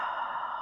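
A single drawn-out breath during a yin yoga bridge pose, steady and close, fading off at the end, with no talking over it.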